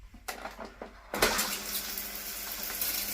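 A shower in a Blackpool hotel bathroom bursts on after a few soft clicks and knocks, then runs as a steady, close, full rush of water that fills the rest of the moment.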